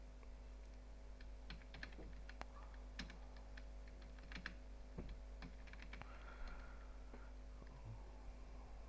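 Keys on a computer keyboard tap in irregular bursts of light clicks while someone types into a Microsoft Word document, faint and close over a low steady hum, with no talking.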